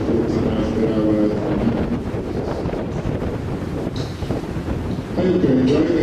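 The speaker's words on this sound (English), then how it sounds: "I hope you enjoy the wind is blowing" Strong wind buffets the microphone on the deck of an Antarctic cruise ship, a loud, continuous rumbling roar with gusts swelling and easing, while a voice speaks faintly beneath it.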